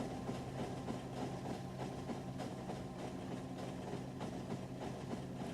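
A train in the factory-building video game Factorio rumbles past with a steady low engine drone and a dense, continuous rolling rattle, faint and unchanging, with no talking.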